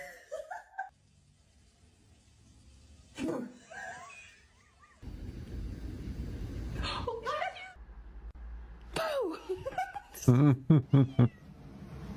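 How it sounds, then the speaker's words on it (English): A cat meows several times in short, rising calls, interleaved with a person's chuckles and voice sounds nearby. "I love cats so much."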